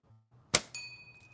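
A slingshot shot strikes a white metal target bell with a sharp crack, then a clear metallic ring that sustains and fades, heard from a short distance with no talking.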